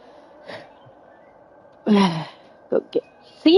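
A tired small child yawns, an audible breathy drawn-out exhale, followed by a couple of short vocal bursts and a breath close by.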